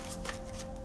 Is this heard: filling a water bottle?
no